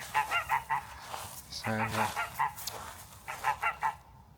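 A territorial goose honks repeatedly in an afternoon green space, loud and close, in rhythmic bursts with a brief harsh run of calls, while a voice briefly speaks over it.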